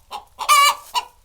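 A backyard chicken by a garden coop clucks in three short bursts, the middle one a longer, rising squawk, close and fairly loud with quiet between.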